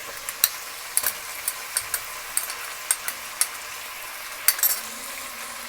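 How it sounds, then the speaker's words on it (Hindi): Ginger garlic paste fries in hot oil for a turnip mutton curry, a soft steady sizzle punctuated by sharp scrapes and clicks of a spoon stirring against the pan, close and without talk. "अदरक लहसुन के पेस्ट के साथ भी हम इसको 1 मिनट तक फ्राई करेंगे"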